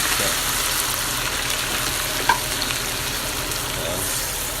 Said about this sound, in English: So I'm just going to let this cook and simmer for another 5 minutes or 10 minutes